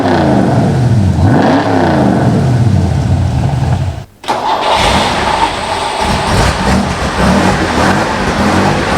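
A single-carburettor V8 car engine with leaf springs revs hard and loud, with a rising then falling pitch sweep, then a brief cut before a rough, steady roar that carries on to the end.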